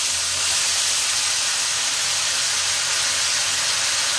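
Bitter gourd (ampalaya) hitting a hot pan alongside tomatoes, giving a steady, loud broadband sizzle and hiss that holds evenly throughout with no voices.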